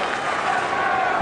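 Tennis crowd noise fills the stadium at the 2008 Australian Open semifinal, a dense, loud murmur and restless chatter of spectators with scattered claps, brief and continuous.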